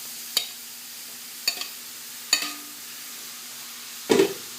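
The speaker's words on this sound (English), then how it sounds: "Onions are about halfway cooked, and I'm going to go ahead and add all of the okra." Partially cooked okra goes into a pan of half-cooked onions for an oil-free Indian bhindi masala, with several sharp spoon taps and scrapes spaced apart and a short burst of stirring and soft sizzle at the end.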